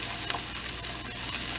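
Onions sizzle and fry in a hot pan while being cooked until translucent, a dense steady crackle with a few light stirring scrapes, close and fairly loud, with no voices.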